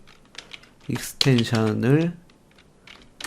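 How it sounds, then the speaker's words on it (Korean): Light keystrokes on a computer keyboard tap faintly around a person speaking, scattered before and after the talk as text is entered into a browser address bar. "주소창에 크롬을 치시고"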